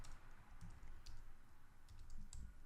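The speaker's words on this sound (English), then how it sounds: "Sorry for my typing issue." Someone types on a computer keyboard in brief bursts of soft, quiet keystrokes, with short gaps between clusters of clicks.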